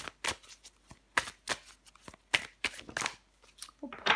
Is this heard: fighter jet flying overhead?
no